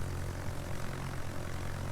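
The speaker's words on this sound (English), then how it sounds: "there's the bombers coming in" Bomber aircraft in a naval air combat game drone in with a steady, loud propeller engine roar that stays continuous and undisturbed throughout.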